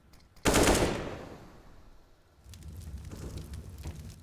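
Gunfire in a Counter-Strike match on the Inferno map: one loud close blast with a long decaying rumble, then quieter rapid rattling of shots that continues to the end.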